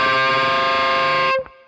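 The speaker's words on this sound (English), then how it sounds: "The first time is just the slightest of bends on the G string like this." Distorted electric guitar note on the G string at the 12th fret, nudged by the slightest bend, sustains loud and steady for over a second before being cut off, with a small pick noise at the end.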